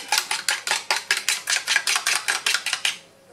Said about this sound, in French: je vais commencer par battre mes œufs